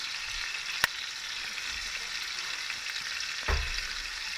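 A steak fries on a low-heat butane camp stove at a creekside campsite, giving a steady, quiet sizzle with two sharp clicks from the pan or utensils.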